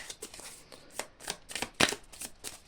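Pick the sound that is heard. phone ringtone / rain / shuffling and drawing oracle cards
shuffling and drawing oracle cards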